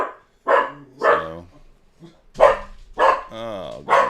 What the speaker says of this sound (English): this dog is just not going to stop barking